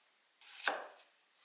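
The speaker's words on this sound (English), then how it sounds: "cut to about the same point," Knife slicing through an onion on a cutting board, one clear close cut landing on the board with a soft scraping draw before and after, quiet surroundings and no talking.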